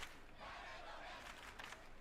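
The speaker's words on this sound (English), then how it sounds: "It sounded like fans cheering from bleachers at a soccer game." Fans cheering in the Chaos;Head NoaH video game, like bleachers at a soccer match: a dense, continuous roar of crowd voices, with rises and a few louder bursts throughout.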